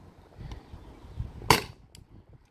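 A CO2-powered air pistol, Daisy, Umarex or Crosman, fires a single sharp, close shot, a short snapping crack amid low background rumble and faint handling sounds.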